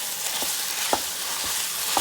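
Ground beef, about two and a half pounds of it, fries in a pan in a Power XL cooker for lasagna, giving a steady soft sizzle with a few faint stirring scrapes, no talk.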